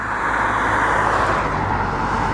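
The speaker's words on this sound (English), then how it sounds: "Wait for this car to go past." A car passes close by on a road beside a WW2 pillbox in the UK, a steady broadband engine and tyre roar that holds loud and even throughout with no talking.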